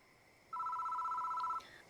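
A telephone rings in the horror adventure game Death Mark, a steady electronic ring of about one second at moderate volume, set against a faint ambient drone with no talking.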